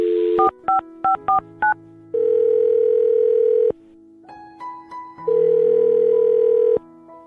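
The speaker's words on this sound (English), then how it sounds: "I'm going to dial her phone number right now" A telephone keypad taps out a phone number in quick touch-tone beeps, followed by long, loud ringback tones separated by a short pause of faint line noise.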